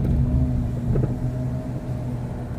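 A car drives along the road with a steady, close engine rumble and road noise filling the cabin, holding fairly even throughout.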